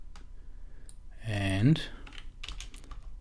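Quick key presses tap on a computer keyboard during Windows Server 2019 configuration, soft clicks scattered around a short spoken word.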